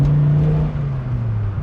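Dodge Viper engine pulling under acceleration, a loud close droning growl whose pitch sags slightly as it holds steady, heard alone without speech.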